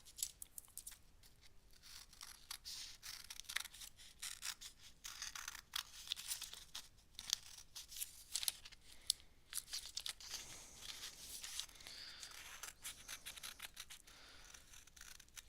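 Scissors snipping paper for a mixed media art journal page, quiet close crisp cuts with rustling and crinkling of the sheet, steady and alone without talk.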